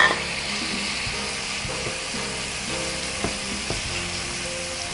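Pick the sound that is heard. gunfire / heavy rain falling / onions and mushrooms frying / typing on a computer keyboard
onions and mushrooms frying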